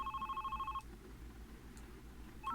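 A telephone rings in the video game The Red Strings Club, a close electronic warble pulsing rapidly for under a second, then a pause, then the start of the next ring, set over a low, steady background hum.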